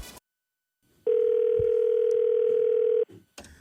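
A telephone sounds a single steady electronic tone lasting about two seconds, clear and moderately loud against a quiet background, with faint knocks around it.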